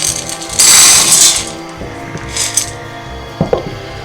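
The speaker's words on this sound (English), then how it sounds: "I've got 1 2/3 cup of chocolate chips, and we're going to put that into our pot." Chocolate chips poured into a cooking pot, a loud close rattling clatter at first that thins to scattered ticks and small clinks as the last pieces drop.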